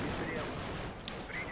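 Small arms fire rattles on in the Combat Mission war game, a brief, steady and loud crackle of overlapping shots with faint tonal whistles above it.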